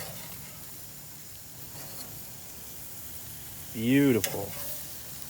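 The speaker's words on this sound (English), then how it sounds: "take out the leave-in thermometer and flip them over" Steaks sizzle on a charcoal grill with a steady, soft frying hiss throughout, and a brief spoken word breaks in near the end.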